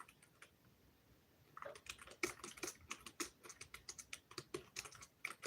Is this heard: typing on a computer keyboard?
yes